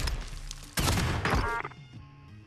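Gunfire in the video game Warzone, from a SPAS-12 shotgun class: a sharp burst of loud shots with crashing impacts, then a quick fade.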